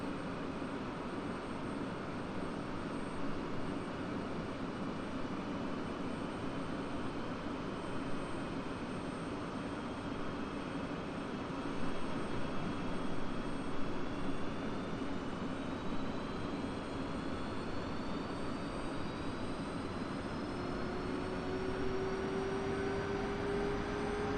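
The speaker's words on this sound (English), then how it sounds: "Sword 2-1, starting engine." Jet engine starting up in a flight simulator game: a steady loud roar and whine that slowly rises in pitch and keeps going without a break, with no voices.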